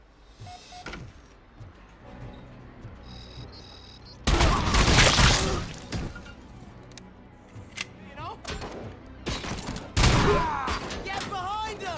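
Gunfire in the video game RoboCop: Rogue City, with loud bursts of rapid shooting and impacts in two dense stretches, mixed with game effects and voices talking.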